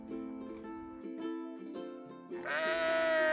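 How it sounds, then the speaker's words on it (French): A frightened sheep bleats in a long wavering cry that rises and grows louder toward the end, heard over a soft sustained musical backdrop. "il put entendre le cri effrayé d'un mouton qui pleurait"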